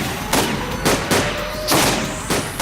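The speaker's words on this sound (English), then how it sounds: "The man rapidly fires his pistols blindly." Pistol gunfire in the visual novel I/O: a rapid run of about five loud, close, sharp shots spaced roughly half a second apart over a constant background hum, with no talking.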